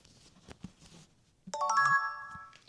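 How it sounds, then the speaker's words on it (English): Samsung Galaxy S24 Ultra running One UI 7 beta plays its default plug-in chime, a short bright rising tone with ringing harmonics after a few soft handling clicks, close and clear. "I'll show you guys what it sounds like when you plug it in and lock it"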